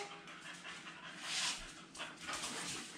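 A dog pants rapidly in short breathy bursts and lets out thin whimpers during mat work training, heard close and fairly quietly, with no one speaking.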